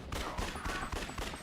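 Rapid volleys of gunfire cut down zombies in the video game Yakuza: Dead Souls, with dense, overlapping shots firing in quick bursts across the whole moment.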